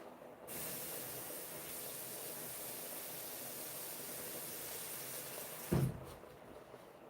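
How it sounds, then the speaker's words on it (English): Water runs steadily into a pan with a broad, even hiss that carries on for several seconds, then stops with a short clunk before quiet returns. "Now, next we're going to put some water in here."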